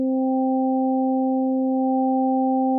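Steady synthesizer sine tone on the note G built by additive synthesis, a pure sustained pitch with a few stacked harmonic partials, holding loud and unchanging with no attack or decay.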